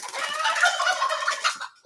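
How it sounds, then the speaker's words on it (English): A chicken near its coop gives a loud, close run of rapid clucking and gobbling calls for under two seconds, then falls quiet. "that chicken really can't get up on that coop for some reason"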